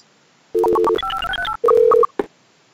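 Electronic telephone dialing tones from Carmen Sandiego Deluxe, a quick run of loud, distinct beeps of varying pitch in short clusters, ending with a brief click, and no voices.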